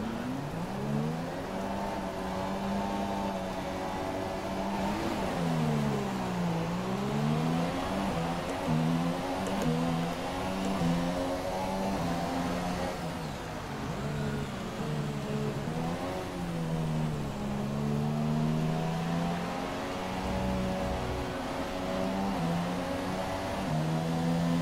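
A pack of Formula One cars in F1 2017 rev their engines at the race start, layered engine whines rising and falling in pitch together, loud and continuous with no talking.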